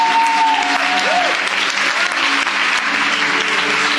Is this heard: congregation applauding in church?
yes